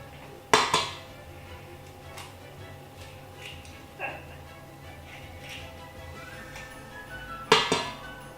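Cupcake batter being mixed with an added egg in a bowl, heard as a few sharp clinks and knocks of utensil against the bowl spaced through a quiet stretch, with faint softer scraping between them.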